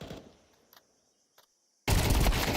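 Gunfire rings out in a Counter-Strike 2 esports match. A few faint clicks in near silence give way to a sudden, loud, sustained burst of shots.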